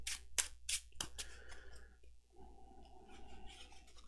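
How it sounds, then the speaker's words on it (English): A deck of game cards is shuffled close up, quick riffling bursts at the start followed by softer sliding and rustling. "So I'll shuffle this a little bit"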